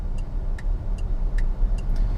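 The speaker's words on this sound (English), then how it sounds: "And this loud indicator is really unnecessary." A Hongqi E-HS9's turn indicator ticks loudly and evenly, about two clicks per second, over a low steady cabin rumble.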